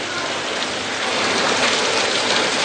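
Heavy monsoon rain pours onto a city street in Cuttack's Badambadi area, a dense, steady hiss of drops hitting the ground, loud and unbroken throughout.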